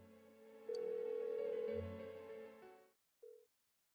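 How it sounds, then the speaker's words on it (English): An unanswered phone call in Persona 4 Golden: a steady electronic ringback tone sounds loud and alone for about two seconds, fades, then returns briefly after a short gap. "Why won't she pick up the phone?"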